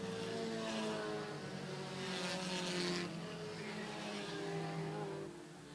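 Race cars run single file at Airborne Speedway, Plattsburgh, NY, their engines roaring as they pass in overlapping waves of revving that swell and fade, loud and continuous with no talking.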